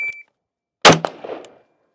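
A Steyr AUG rifle fires a single loud, sharp shot on an outdoor range, followed moments later by the faint ring of the round hitting a steel target about 50 yards away, after a short electronic timer beep.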